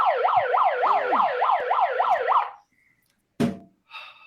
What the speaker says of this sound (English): I feel so powerful with the siren